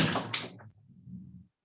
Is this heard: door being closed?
yes